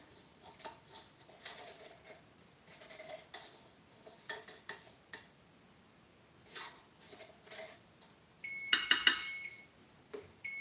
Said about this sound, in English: There goes our timer.